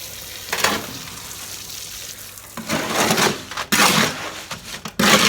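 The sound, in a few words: mixing concrete patch in a wheelbarrow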